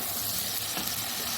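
Onions frying in a pot of masala bhindi, a steady, dense sizzle that stays loud and even throughout, with faint stirring beneath.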